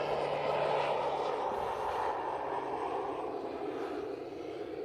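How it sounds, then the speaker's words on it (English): An airplane flies overhead outdoors as a loud, broad engine drone that slowly fades as it passes, with no voices. "I think that's a really nice plane"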